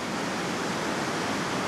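Steady broadband ocean surf rolls onto a small cove on the Chilean coast, a continuous close wash of waves with no voices.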